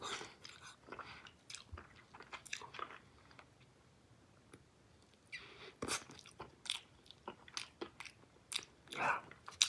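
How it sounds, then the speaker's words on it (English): Someone chews soft, gooey Big League Chew bubble gum close up, with irregular wet squishes, smacks and crunchy clicks coming in bursts between quieter pauses. "this gum from Big League Chew. It gets so gooey, it's so soft."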